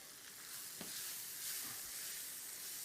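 Butter sizzling in a hot pan beside a wagyu steak, a soft, steady hiss of frying with faint stirring, quiet and without voices.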